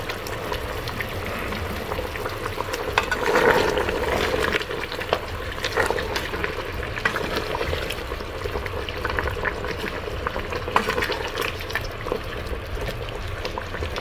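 Potatoes stirred in a pot of Christmas curry, with a steady bubbling simmer and wet scraping and clinking from the stirring. The sound is close and continuous, with no voices.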